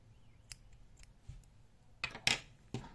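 Scissors snipping the yarn tail of a crocheted doll, a few faint clicks early on, then two or three sharper, louder snips close by near the end, with no talk.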